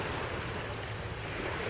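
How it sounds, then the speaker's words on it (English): Rough ocean waves break and wash over dead marsh grass along an eroding beach, a steady, dense roar of surf with no pauses or voices. "with the rough tides, rough waves, when the waves beat on the marsh grass that has died"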